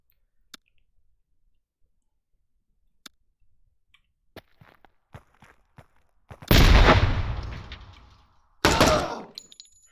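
Rifle fire in the tactical game Door Kickers 2: scattered sharp clicks and ticks, then two loud bursts of gunfire with decaying echo, no talking over them.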